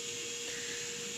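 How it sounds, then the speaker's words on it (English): A vacuum cleaner run by a grandmother somewhere in a house, heard as a steady, faint whine with a constant hum, muffled as if from another room. "My grandmother's vacuuming, so you may or may not be able to hear me."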